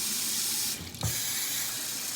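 Warm water runs from a sink tap in a steady, close rush while a face is rinsed. The flow briefly dips and splashes about a second in, then resumes evenly.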